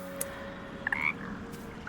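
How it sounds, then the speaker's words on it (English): A frog in the Baldur's Gate 3 video game gives a short croak and chirp, brief and fairly quiet, over a low hum of background ambience. "That's one interesting frog."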